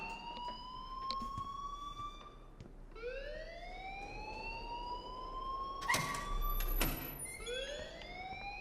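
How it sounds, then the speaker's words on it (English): An alarm rings in the video game Life is Strange: repeated rising electronic wails sweep upward in cycles, loud and close, with a couple of sharp clanks partway through. "please turn off that alarm since that's your job"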